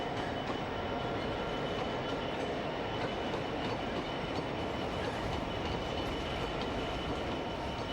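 The King Edward I steam locomotive runs a downhill stretch near Bristol in a continuous dense roar of wheels and rail noise, steady and loud throughout with no voices.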